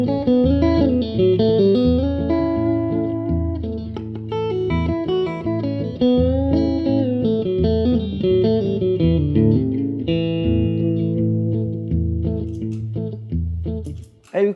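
Electric blues guitar licks played with quick pull-offs onto open strings, bright distorted tone in a continuous flowing phrase that trails off at the end, played alone without talk.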